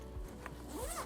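A softside spinner suitcase's expansion zipper gets unzipped in a couple of quick, rasping pulls, close and fairly quiet, with no voices.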